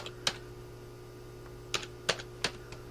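Keys clack on a computer keyboard with faded letters, a few sharp isolated taps, then a quick run of three or four strokes, close and fairly quiet over a steady low hum.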